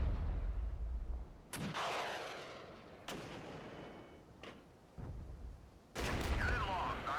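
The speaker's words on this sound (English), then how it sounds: "Taking heavy direct fire." Gunfire and artillery from the Cold War tactics game Regiments arrive as several sharp, heavy blasts spaced a second or two apart, each with a rumbling tail. The shots sound at a moderate distance, with low battlefield noise between them.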